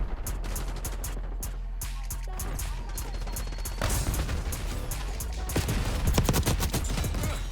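Rapid automatic gunfire from a GPR 91 rifle shooting through walls in Black Ops 6, dense bursts of cracking shots that grow heavier and more chaotic toward the end.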